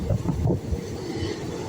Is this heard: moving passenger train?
yes